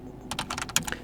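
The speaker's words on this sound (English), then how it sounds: "I can do it basically by typing in history" Quick bursts of keystrokes on a computer keyboard while entering a Linux terminal command, a short run of close, crisp taps with no talking.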